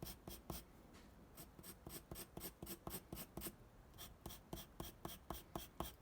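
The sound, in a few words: pencil drawing overlapping hatch marks on paper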